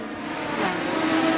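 A Mazda 13B rotary-engined IMSA GTP race car at Portland International Raceway gives a steady, buzzing high-revving drone on the straight, rising slightly in loudness as it approaches.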